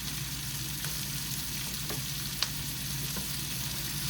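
Spicy smoked sausages sizzling on a George Foreman grill, giving a steady frying hiss with a few faint clicks and pops, close and constant with no one talking.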